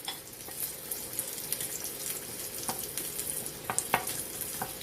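Pork chops fry steadily in a pan, a constant close sizzle and crackle with scattered sharper pops and spits, no voices.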